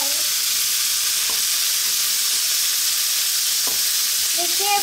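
Bell pepper fried rice stirred in a hot pan, a continuous loud sizzle with a few faint scrapes and taps of the utensil, close up and without talk.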